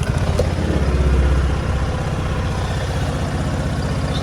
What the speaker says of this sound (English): So start the bike up.